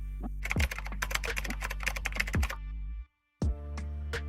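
Keystrokes clatter on a computer keyboard used for Windows shortcut keys, a quick uneven run of close, crisp taps with a few heavier thumps, then a brief pause before another short burst.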